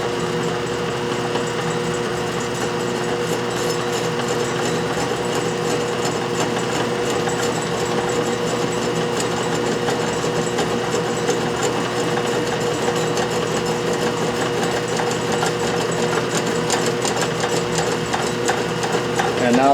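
A metal lathe turns a rough lead flywheel casting at 164 RPM on a very slow longitudinal power feed, driven from the tailstock end. A steady, even mechanical hum and whir continues unbroken for the whole stretch, without talk.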